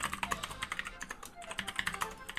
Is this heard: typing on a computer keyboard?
yes